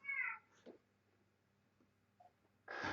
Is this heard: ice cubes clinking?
no